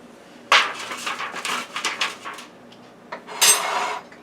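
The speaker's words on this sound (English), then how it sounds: "I'm going to put that in the pan and move it around so it covers the entire pan." Food is pushed around a pan in short bursts of scraping and clattering, loud and close, with a brief pause before a final burst.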